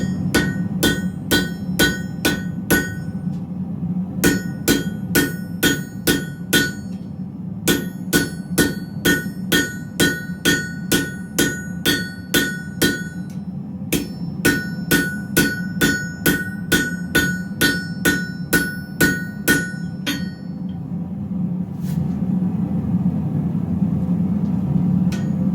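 Repeated hammer blows on hot metal at a forge, ringing strikes in steady bursts with short pauses between runs, close and loud over a low continuous roar of the fire.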